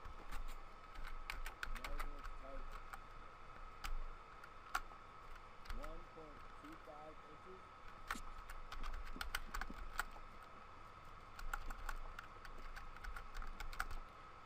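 Fingers tap on a computer keyboard in irregular bursts of quick, crisp keystrokes during a 3D modeling session, with brief pauses between runs and faint background hum.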